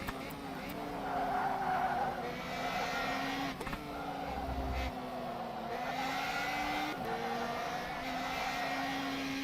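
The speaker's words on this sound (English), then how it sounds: "that is the drift and slide we need through the final turn" Car tires skid and squeal through a turn in rFactor 2 sim racing, a sustained whining slide over a steady engine drone with shifting pitch, lasting several seconds, with a voice talking faintly beneath.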